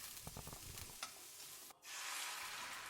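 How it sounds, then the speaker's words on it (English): Chopped onion stir-fried in a hot pan for soy sauce chow mein gives a steady broad sizzle, with rhythmic stirring scrapes early on and a brief dip before the frying swells again. "just stir fry the onion until it is cooked"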